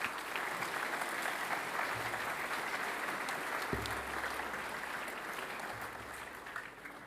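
Sustained applause from a school assembly crowd welcoming new staff, a steady wash of clapping that holds for about seven seconds and tapers slightly at the end.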